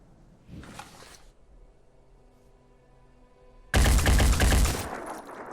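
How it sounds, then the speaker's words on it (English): A gunshot fired as a warning shot in the video game Phoenix Point: a short muffled burst first, then a loud, sharp blast that rings out and slowly decays. "That was a warning shot."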